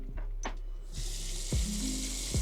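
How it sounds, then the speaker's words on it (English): Water runs steadily from a regular faucet fitted with an aerator, a broad even hiss that starts partway through and continues to the end, with a few soft knocks and clunks near the start and later. "I have a regular faucet"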